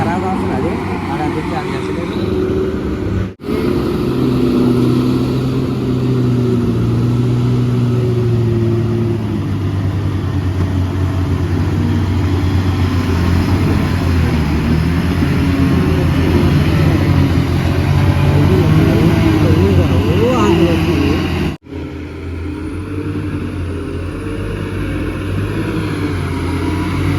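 Heavy trucks labour up a dangerous hairpin turn, engines droning and straining continuously and loudly, with someone talking over the rumble throughout.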